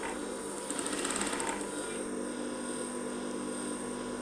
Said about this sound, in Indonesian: Kita jahit mengelilingi bagian tepi-tepinya.